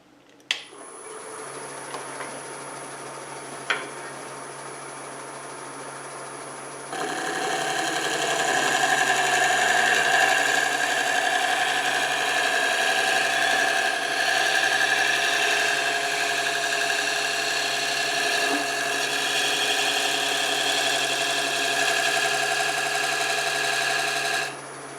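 A wood lathe turning a segmented chip dip and nut bowl, with a scraper working the piece: a steady motor hum with tonal whine that grows louder and rougher once the scraper engages, holding constant for a long stretch.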